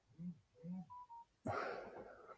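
A phone notification plays as a short run of rising electronic tones, then cuts into a loud, noisy burst that lingers to the end; no one speaks.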